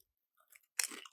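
Thin, lightly spiced cheesy chips crunched while eating, a quiet nibble or two followed by a loud, close, crackling bite and continued chewing crunches, with no talking.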